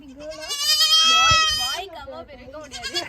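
Little baby goats bleating in quavering, drawn-out cries close by, one long call followed by shorter ones, with people chatting around them.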